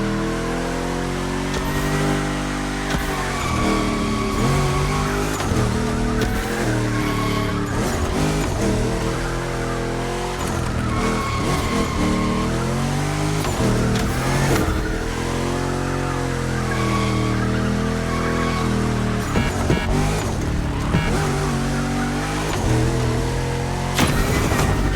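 A car in The Crew Motorfest drifts hard, its engine revving loud and constantly with wavering, surging pitch and tyre squeal mixed in, close and dense throughout with no talking.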